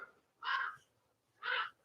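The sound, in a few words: crow cawing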